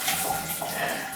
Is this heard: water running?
yes